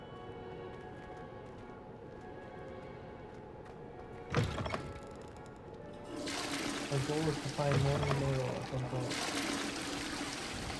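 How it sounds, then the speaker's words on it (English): A toilet flushes in a bathroom in the Hogwarts Legacy video game, a sudden rushing gush of water that swells and drains for several seconds after a brief clunk, with a voice speaking over the earlier part. "I'm going in by flushing all the bathrooms."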